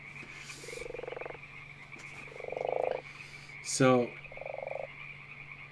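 A frog croaks a few times in short buzzing bursts, moderately loud, over a constant low hum, with one brief spoken word among the calls.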